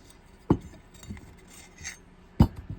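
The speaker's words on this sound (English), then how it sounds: "So the glass lighting plate comes off." Glass lighting plate of a Protector SL light fitting being lifted off, giving two sharp glassy clinks about two seconds apart with faint rubbing and scraping in between, close and otherwise quiet.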